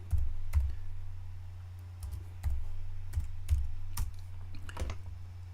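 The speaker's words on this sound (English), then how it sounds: "Type this in." Computer keyboard typing, irregular clusters of close key clicks spread over several seconds above a low steady hum, with no speech.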